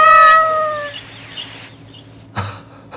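A cat dressed as a lion lets out a single clear, close meow, and a brief faint rustle follows it.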